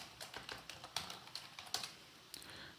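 Rapid keystrokes on a computer keyboard as a web address is typed, a steady run of light clicks with a few sharper taps, close by, with no talking.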